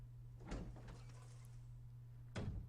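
Two heavy sliding door openings in the Resident Evil game, each a short whoosh and thud, spaced about two seconds apart over a low steady hum.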